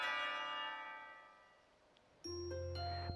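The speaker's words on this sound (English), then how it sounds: "But the bell rings and cuts me off." A school bell rings in the visual novel game Katawa Shoujo, sustained chime tones fading over about two seconds before a second bright bell strike and tone cut in, clear and alone.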